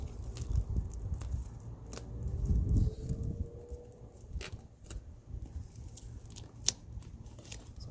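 Scissors cut carbon fiber vinyl wrap on a Kia Stinger center console, giving sparse, sharp snips and clicks spread through a low, quiet background, close by and without talk.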